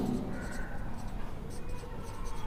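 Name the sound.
writing out a sentence during an English lesson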